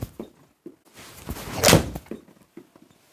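Several sharp thunks from a golf club striking a Srixon ball on iron shots, spaced out with one louder, fuller impact in the middle, close and without talk.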